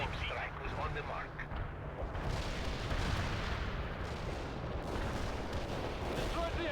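Artillery strike explosions in the real-time strategy game World in Conflict, a continuous rumbling barrage of blasts and booms with mixed battle noise, dense and loud throughout.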